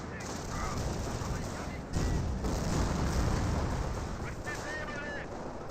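Rifle squad gunfire in Company of Heroes, a dense, noisy stretch of rapid crackling shots and bursts at mid distance, continuous and rumbling, with faint whistling tones mixed in.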